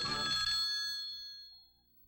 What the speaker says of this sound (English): Pick up your phone and give them a ring.